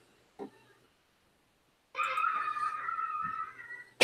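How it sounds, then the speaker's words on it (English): A sustained, high-pitched scream rings out in the background for about two seconds, faint and distant, after a near-silent stretch with a brief knock. "You hear screaming?"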